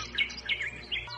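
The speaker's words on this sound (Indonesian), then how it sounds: "Terserah, kau mau berkicau terus." A bird chirps in three quick, bright bursts, close and clear against a quiet background, as a sound effect in an audio drama.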